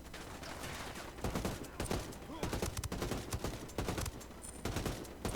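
Burst-fire rifle shots crack repeatedly during a firefight in Ghost Recon Wildlands, rapid clustered bursts in quick succession over steady loud combat ambience, with no talking.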